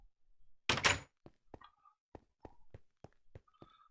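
A wooden door in a Minecraft world, modded with the FTB Ultimate pack, opens and closes with a brief scrape followed by a series of short, evenly spaced clicks and knocks, clean and close.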